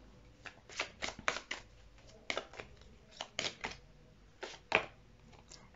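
Tarot cards are shuffled in close, quiet bursts, with quick papery riffles and flicks arriving in several clusters separated by brief pauses.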